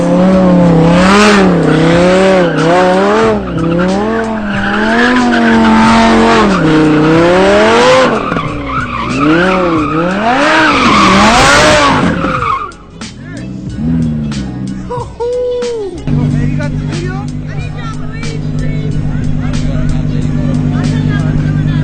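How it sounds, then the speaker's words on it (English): A car drifts with loud, sustained tire squeal that wavers up and down in pitch for several seconds, engine revving underneath, then settles into a steady whine, with a crowd babbling in the background. "do one little drift before we leave"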